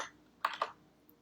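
Quiet typing on a computer keyboard, with two quick clustered keystrokes and a faint later tap, heard alone at low level.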